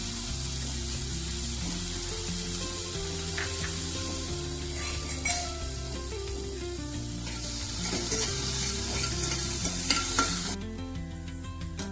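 Chopped onion sautéing in butter in a kadhai: a steady sizzle with stirring scrapes and occasional light clinks of the utensil against the pan, continuous for several seconds while music plays throughout, with no talking.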